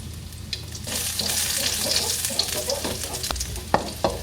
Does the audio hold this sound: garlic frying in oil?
yes